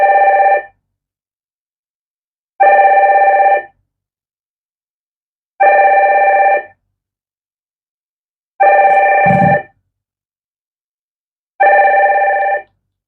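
A telephone rings in five regular, evenly spaced bursts about three seconds apart, each a loud electronic warble lasting roughly a second with silence between, and a brief thump during the fourth ring.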